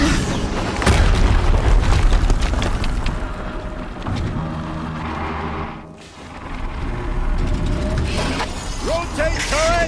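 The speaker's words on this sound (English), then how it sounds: "Another explosion." Explosions in the video game Horizon Zero Dawn, heavy booms and rumbling blasts followed by mechanical clanks and rattles, loud and close, with a voice talking over parts of it.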